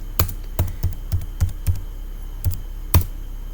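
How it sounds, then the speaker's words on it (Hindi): A password being typed on a computer keyboard while creating a user in Kali Linux, eight distinct close keystrokes in an irregular rhythm, clear and alone over a low background hum. "इनका भी पासवर्ड टाइप करते हैं"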